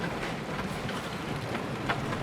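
A train ride in the video game Planet Coaster, heard as a steady, loud, dense rumble with faint rhythmic clatter and no voices.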